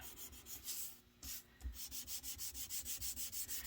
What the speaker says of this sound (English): So I'm just going to sand